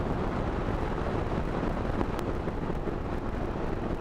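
Steady, dense wind roar buffets the microphone on a motorcycle ride through humid weather, a continuous loud rush with no breaks and no voices.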